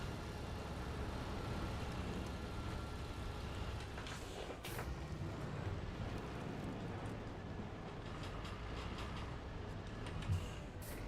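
In SnowRunner, a truck engine runs with a constant low drone, broadband and steady, punctuated by a couple of brief clicks or hiss bursts near the middle and end.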